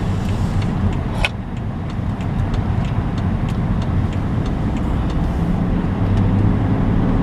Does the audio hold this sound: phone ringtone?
no